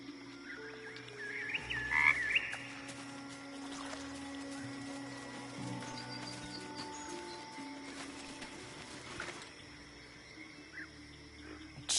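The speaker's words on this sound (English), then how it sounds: "It croaks softly, calmed, but the frog's eyes watch your every movement." A frog in the video game Baldur's Gate 3 croaks softly in repeated low calls over a quiet ambient bed with faint water and bird-like sounds, near and gentle, with no talking.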